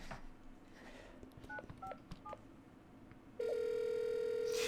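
A phone being dialed: a short run of DTMF keypad tones beeps at a moderate pace over low background noise, then a steady, loud dial tone takes over and holds to the end.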